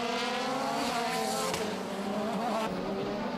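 Ligier and Norma prototype race cars at Val de Vienne in 2007 scream past at high revs. Engine notes rise and fall in layered whines, with a brief tire squeal as one car spins, loud and continuous with no voices.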